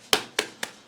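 Sharp slaps striking a raw brisket laid on a surface to flatten it during trimming, four quick close-up smacks in an even rhythm, each with a short fleshy decay and no talking.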